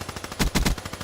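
A video game gun fires rapidly in a short burst, with a quick run of sharp, evenly spaced shots and a few louder cracks in the middle of the run.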